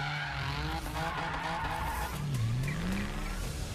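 Tires skid and squeal in a video game trailer, likely from a DeLorean, with a sweeping pitch that rises and falls over steady loud engine and road noise.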